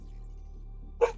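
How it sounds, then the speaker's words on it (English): A single sharp dog bark rings out once near the end, fairly close, over a low steady background hum in a room where someone is streaming a racing game. "If you hear my dogs bark at all"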